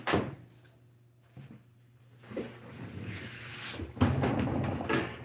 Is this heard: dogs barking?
no